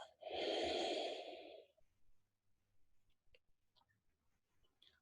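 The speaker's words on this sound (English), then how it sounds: "And breathe out." A long, loud exhale during guided meditation, lasting more than a second as a steady breathy rush, then fading into quiet with faint small ticks and rustles.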